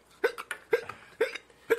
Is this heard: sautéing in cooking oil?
no